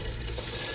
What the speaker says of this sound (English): Flushing, flush.